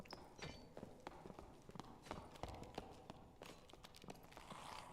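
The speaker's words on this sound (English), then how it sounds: "Footsteps behind." Footsteps tap and thud in an irregular run in Dark and Darker, a quick uneven patter of steps that are fairly faint and scattered, with no talking over them.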